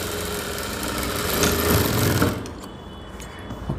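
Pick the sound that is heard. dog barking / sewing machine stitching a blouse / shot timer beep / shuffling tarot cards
sewing machine stitching a blouse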